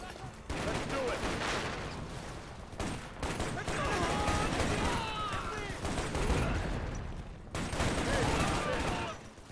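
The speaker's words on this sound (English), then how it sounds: "The AI shot at me." Bursts of automatic gunfire from computer-controlled enemies in the shooter game Shadow Ops: Red Mercury, dense and continuous with short gaps, mixed with in-game shouting and battle noise.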